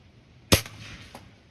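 A 2015 RWS Diana Model 34 Panther T06 air rifle fires at a beer can, one sharp, close crack followed by a faint ring and a small distant knock.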